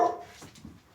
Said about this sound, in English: Oh, this is a dog.